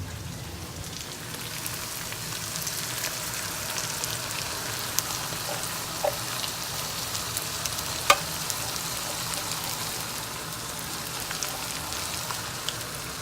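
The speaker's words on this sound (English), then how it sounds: "now it's time to throw my baked bean in" Baked beans hit a hot pan of Jamaican saltfish and sizzle steadily, a continuous soft crackling hiss with occasional scrapes and clicks of stirring, moderately close and without talk.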